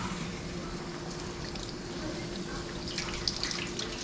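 Steady broadband wash of cold tap water running into a kitchen sink, with faint clinks of something being rinsed under the stream, continuous and close throughout.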